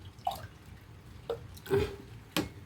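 Water splashes from a glass into a cooking pot in short bursts, four distinct pours spaced about half a second to a second apart, close and fairly clear.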